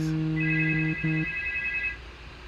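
A telephone ringtone trills in steady electronic tones, a low two-note pattern breaking off briefly before a higher tone carries on and then stops, moderately loud over a quiet background.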